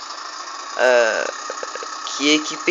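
A tractor engine in the Farming Simulator 2009 video game gives a steady, even mechanical drone throughout, running under someone speaking French.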